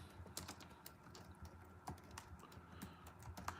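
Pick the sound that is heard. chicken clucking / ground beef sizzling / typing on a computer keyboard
typing on a computer keyboard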